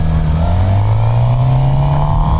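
A stock California-spec Suzuki GSX-R 750 motorcycle engine running, loud and close, a steady throaty drone whose pitch climbs slightly as it revs.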